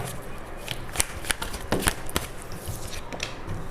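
Tarot cards being shuffled and handled in a card reading, a run of crisp riffling flicks and soft slaps close by, with quiet room noise between them and no talking.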